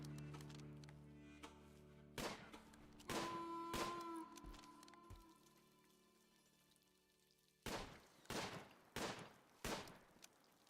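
Gunshots ring out in the RimWorld video game as a colonist kid trains with guns, a scattered string of sharp, quiet pops in short bursts, then a faster run of shots near the end.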